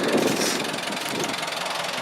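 An old Ford 2000 tractor's engine runs steadily nearby, a rough mid-pitched idle with a slight knocking rattle, alone and fairly loud throughout.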